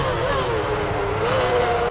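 Formula One cars from the 2006 season at a race start in a racing video game, a loud continuous engine roar with rising and falling whine as the field accelerates together.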